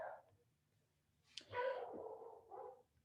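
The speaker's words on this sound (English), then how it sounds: "Can you guys hear my dog in the background" A dog barks and yips in the background, one short whimpering bark followed by a longer bark, muffled and fairly faint, in an indoor room with no talking.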